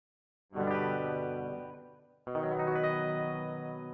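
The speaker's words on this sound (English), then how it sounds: "You hear the fret noises afterwards?" Two sustained electric guitar notes or chords from Presonus Studio One software, with a modulated, shimmering tone, the second struck after a brief fade, with faint simulated finger squeaks on the strings.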